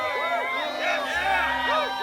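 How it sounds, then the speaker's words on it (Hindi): Crowd cheering wildly at a knights' tournament, a dense roar of many voices with rising shouts sustained throughout, loud and close. "भीड़ पागल हो गई थी।"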